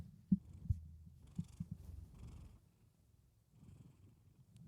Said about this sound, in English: Bullet? You want to purr or something?